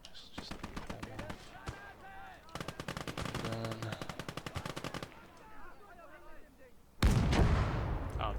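Machine guns in Call to Arms: Gates of Hell fire rapid, close bursts, one long sustained volley in the middle, with voices calling out between bursts and a loud explosion-like blast near the end.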